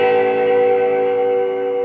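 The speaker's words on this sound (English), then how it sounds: "That's what you call natural harmonics." Guitar natural harmonics at the 12th fret ring out as clear, bell-like chiming tones, sustained evenly for nearly two seconds.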